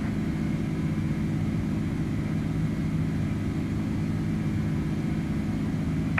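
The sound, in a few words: Airbus A310 aircraft in flight, from Microsoft Flight Simulator 2020 video game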